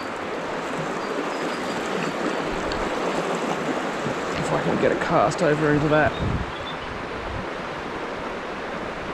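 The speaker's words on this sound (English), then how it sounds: "I'm going across a lot of fast water here" Fast-flowing river water rushes steadily in the background while an angler fishes a trout stream with spey tactics, a broad continuous wash with someone talking over it midway.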